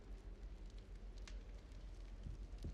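Fireplace crackling in the game Hogwarts Legacy, a steady low rumble of flames with a few sharp pops and snaps scattered through, close and continuous with no voices.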